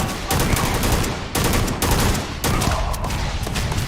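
Gunfire in the video game Starfield rattles out in rapid, loud bursts, several volleys of automatic shots separated by brief gaps.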